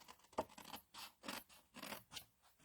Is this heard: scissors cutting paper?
yes